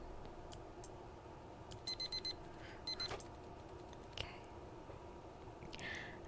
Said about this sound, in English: the alarm blares out of nowhere